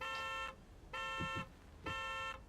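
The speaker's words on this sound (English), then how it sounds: "Did I just set off that car alarm?" Car alarm in the video game Taxi Life, sounding three evenly spaced, rising-and-falling electronic wails, moderately loud, with faint engine and road noise underneath.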